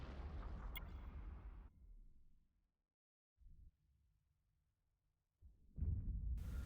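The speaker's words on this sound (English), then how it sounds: "hit our double disruptors, fire all weapons" Spaceship weapons fire in the space game Eve Echoes with double disruptors: a loud booming blast fades into near silence, then a short thump, a low hum and a second heavy burst close by.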